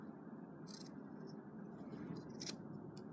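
Scissors snip through sewn fabric on a stuffed dachshund toy, giving a few short, faint cuts over a steady low hum.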